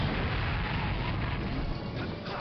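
A Bob-omb blowing up in Super Smash Bros. Brawl, a loud booming blast with a dense crackling rumble that fills the whole moment and fades slightly toward the end.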